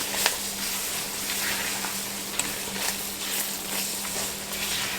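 Onions, bell pepper and celery cooking in a darkening roux for New Orleans-style gumbo, giving a steady, soft sizzle with faint crackles and a low background hum.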